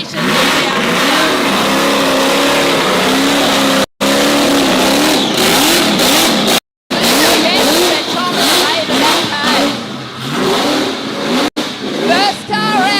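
A car performs a burnout at the Rockynats Pro Burnout Series, its engine screaming loud and sustained at high revs with wavering pitch, while a commentator talks over the roar.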